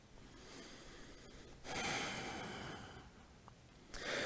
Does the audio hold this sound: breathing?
yes